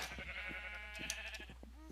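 Minecraft sheep crowded into a tiny pen bleat in short, wavering calls over a steady low background hum, fairly faint and without any talking.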